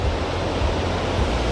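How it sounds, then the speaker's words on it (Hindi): River water roars at the Karnaprayag confluence of the Alaknanda and Pindar rivers, a loud, steady rushing wash with deep low rumble and no pause, apparently mixed with wind buffeting the microphone. "तो ये है कर्ण प्रयाग, जहाँ पे अलकनंदा नदी और पिंडार नदी का संगम होता है।"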